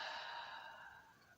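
A single soft breath drawn in through the nose and let out through the mouth, close and faint, fading gradually like a gentle sigh.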